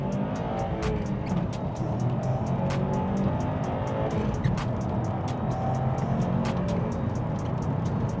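A 2021 Subaru WRX STI is driven in a front-wheel-drive setting, with a continuous engine drone and road roar inside the cabin, plus repeated sharp ticks and light tire scrubbing over steady loud noise.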